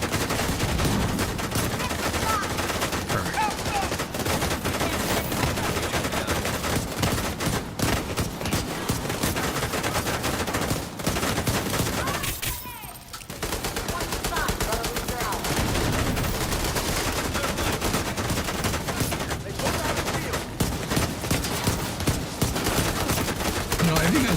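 Gunfire in The Division 2: sustained, loud automatic fire from several weapons crackling nearly nonstop, with a brief lull near the middle before the shooting picks up again.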